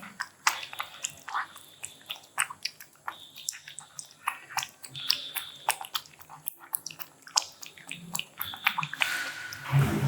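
A cat eating homemade wet cat food, wet chomping and smacking bites in a quick irregular rhythm, close up and moist, continuing steadily throughout.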